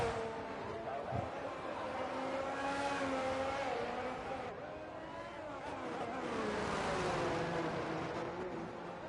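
F1 race car in the F1 22 video game at Miami, engine droning and rising in pitch along a DRS straight toward a chicane, steady and loud throughout with commentary-style talk over it.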